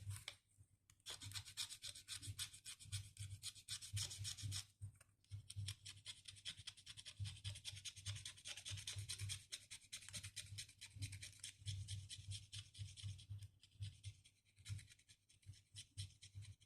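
A coin scrapes across a scratch-off lottery ticket in repeated rasping strokes, close and quiet, in rhythmic bursts with brief pauses between passes.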